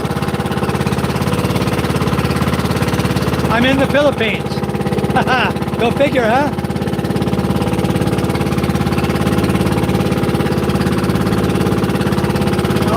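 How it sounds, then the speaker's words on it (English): A motorboat driven by two single-cylinder 18 hp diesel engines drones steadily and loudly throughout, a constant low throbbing hum with someone talking briefly over it. "It's a motorboat, Rob. This is powered by 2 single-cylinder, 18 horsepower diesel engines."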